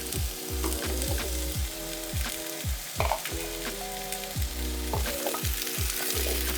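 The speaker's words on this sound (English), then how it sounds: "Sauté for about 8 to 10 minutes or until slightly soft." Chopped onion, potato, celery and carrot sizzle in a hot pan while a utensil stirs and scrapes in a quick repeated rhythm, close up with no voices.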